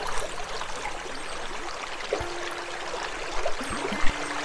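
Brook water flows and trickles steadily near Lienz, a constant close rushing babble with a few small splashes and no talking.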